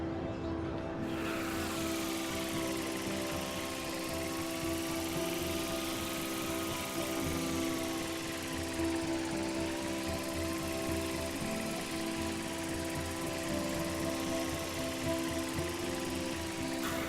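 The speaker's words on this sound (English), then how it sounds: "give the drone a whirl around campus" A small drone flying around a campus in Life is Strange, a constant whirring buzz with steady tonal hum and slight pitch shifts, continuous and close.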